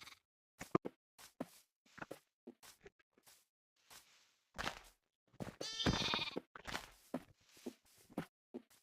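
Minecraft sheep bleat in short bursts, with one longer, louder bleat in the middle, amid scattered blocky footsteps and game clicks; no talking.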